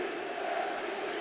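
An arena crowd at the 2017 FIBA EuroBasket final between Slovenia and Serbia in Istanbul chants MVP for Dragic, a dense, sustained roar of many voices filling the hall.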